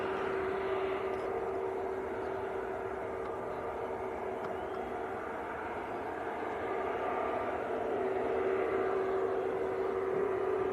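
A Qatar Airways Airbus A350 taxiing at Manchester Airport gives a steady distant jet engine whine and broad rumble that continues evenly throughout, with no talk over it.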